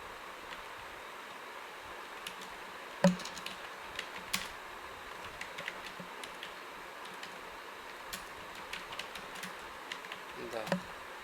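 Light keystrokes on a computer keyboard, soft scattered taps at an irregular pace over a quiet room hum, with a sharper clack near the start and a small flurry near the end.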